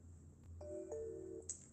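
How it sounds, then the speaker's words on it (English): A phone plays a few short electronic notification tones, one held chime and another rising bright ping, clear and close in an otherwise quiet room. "so many notifications"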